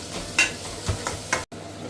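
Onions fry in a pan for smoky tandoori chicken prep, a steady close sizzle broken by a few scraping stirs of a spoon against the pan, with one brief dropout near the end.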